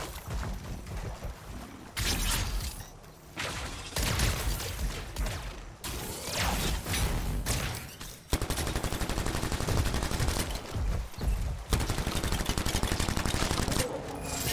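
Machine pistol gunfire in a video game: sustained rapid bursts of automatic shots, loud and close, broken by brief pauses between strings of fire.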